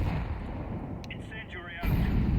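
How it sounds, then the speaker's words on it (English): A grenade detonates in Counter-Strike 2 as a deep, rumbling boom that fills the clip, with a second heavy burst near the end and game effects layered over it. "Grenade out."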